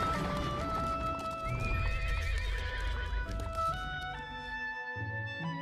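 Horse hooves clip-clopping in a hurried approach with loud whinnying neighs, a centurion arriving on horseback, set over a swelling musical score.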